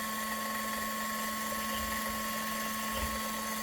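A Lyman Case Trimmer Xpress trimming 300 Blackout brass cases gives a steady high motor whine with a constant buzzing hum, running continuously at close range with faint thumps underneath.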